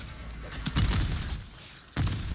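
Gunfire and an explosion in MW3 Zombies, with a rifle carrying a Dead Wire ammo mod. A burst of rapid shots swells into a boom, then drops back before a second sharp blast near the end.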